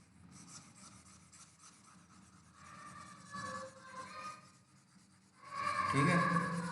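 Marker or chalk rubbing and scratching across a classroom board, a rough, uneven scraping that grows louder and busier toward the end, with a faint voice underneath.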